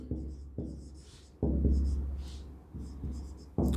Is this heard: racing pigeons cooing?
no